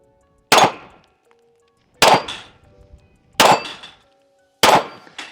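Bullets striking steel target plates during a pistol drop test with a Holosun 507 Comp red dot: four sharp, ringing metallic clangs spaced about a second apart, each decaying quickly to near silence.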